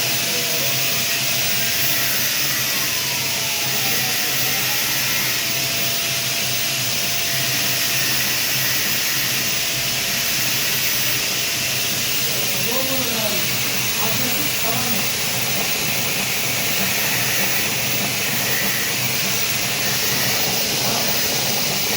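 A cigarette filling and rolling machine runs with a constant loud mechanical hiss and whir, with faint tonal sweeps and brief rattling bursts partway through. Faint voices sit beneath the machine noise.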